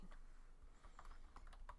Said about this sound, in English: I'm typing in the wrong screen